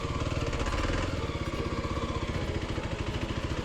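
Dual sport motorcycle engine at low revs during a slow full-lock U-turn, a steady chugging putter with rapid regular pulses, close and loud throughout with no talk.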